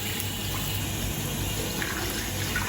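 Tap water runs steadily into a sink for face washing, a continuous close hiss with no talking.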